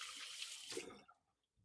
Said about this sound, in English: give my hands a quick rinse